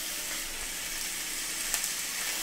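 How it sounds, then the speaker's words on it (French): Steaks sizzling in a pan for a Franc-Comtois burger, a steady low hiss of frying fat with a few faint pops and crackles, close and continuous with no talk. "je vais maintenant faire cuire les steaks"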